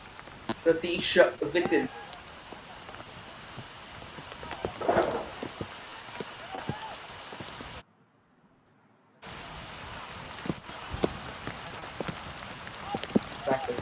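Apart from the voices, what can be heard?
heavy rain pouring at a football match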